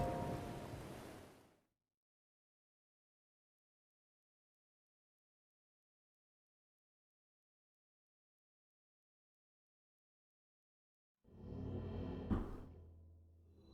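Rain and a thunderstorm in Zelda: Breath of the Wild, a loud wash of downpour with deep rumble that cuts off after about a second and a half, followed by long silence, then returns near the end.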